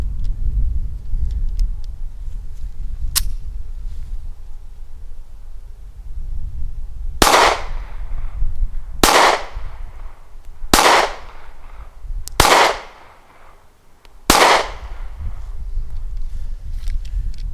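Five loud, sharp gunshots from an S&W Bodyguard 380 compact pistol, fired outdoors at roughly two-second intervals after a faint earlier snap, each a close, cracking report.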